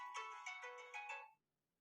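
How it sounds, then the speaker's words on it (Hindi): A mobile phone in a classroom rings with a melodic tonal ringtone of several quick pulsing notes, clear and close, then cuts off abruptly into near silence. "किसका फोन आ रहा है?"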